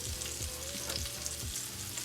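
Garlic sizzles steadily in hot butter alongside chicken bites in a single pot, a dense continuous crackle with a few soft stirring thumps and no voices.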